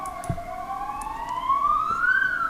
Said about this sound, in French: Et là comme par hasard on entend les ambulances dehors.